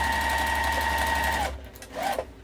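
A sewing machine stitches a wallet made from fat quarters with magnetic snaps, giving a close, steady mechanical whir for about a second and a half. The machine then stops, and a short second burst of stitching follows.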